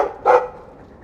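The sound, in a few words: dog barking in Dragon Age 2 video game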